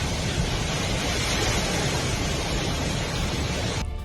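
Flood water from Typhoon Ragasa rushes through the streets of Hualien, Taiwan, as a loud, continuous, broadband roar that stays steady and unbroken from start to finish, with no voices.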